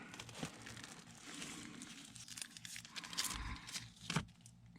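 Tape crinkles and crackles quietly as it is pulled and pressed around an inner duct during a heating install in a home addition build, a few sharper tearing bursts near the end.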